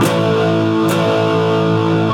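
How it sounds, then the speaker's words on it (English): A distorted electric guitar rings out a 10th-fret bar chord on the bottom three strings for a punk-rock chorus, loud and sustained with a second strum partway through, no voices. "All you have to do is 10th fret bar chord bottom 3 strings"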